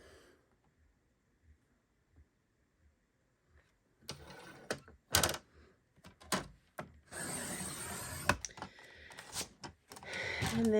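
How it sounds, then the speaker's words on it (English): A strip of paper is cut for Christmas cardmaking at a quiet craft table, with scattered faint clicks, then a sharp trimmer chop followed by a steady rasping slice through the paper and a few loud snaps near the end. "I'm going to cut this strip here at 1 1/4, or I'm sorry, 1/4"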